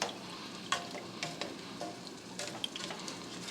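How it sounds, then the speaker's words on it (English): A spoon stirs a pot of Jamaican stewed meat, with soft scraping and wet shuffling strokes over a steady sizzling simmer, a few sharper clinks against the pot. "I'm going to give it just a quick stir just to make sure everything is incorporated"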